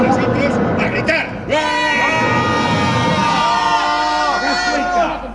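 Group of stage actors shouting and yelling together in unison, a loud sustained crowd-like roar of mixed voices swelling after a brief quieter start and continuing for several seconds.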